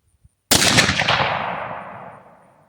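A .270 Winchester rifle loaded with cast bullets fires a single loud, close shot that booms and rolls off in a long decaying echo, preceded by a faint click; no speech.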